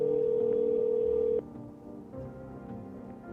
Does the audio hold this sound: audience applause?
no